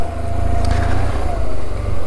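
A BMW R motorcycle engine runs steadily up close with a deep, continuous low rumble and a faint whine, holding an even level throughout.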